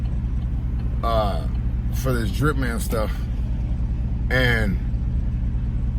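Steady low engine rumble from inside a pickup truck the speaker is sitting in, idling continuously beneath someone talking in bursts.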